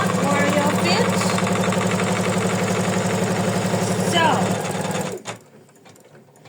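Embroidery machine stitching a placement line with fast rhythmic needle hammering and motor hum for about five seconds, then stopping abruptly, with a brief spoken word near the end.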